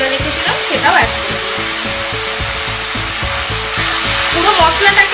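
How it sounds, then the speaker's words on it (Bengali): Ginger garlic paste and tomato masala sizzle and crackle steadily in a hot pan for Bengali chicken kosha, a loud continuous fry with stirring scrapes and no talking. "পুরো মশলাটাকে এবার আমি ভালো করে কষবো যতক্ষণ না এর মধ্যে থেকে তেল ছেড়ে আসছে"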